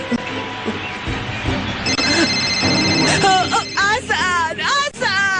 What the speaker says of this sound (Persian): خانم نور، در موبایلتان زنگ است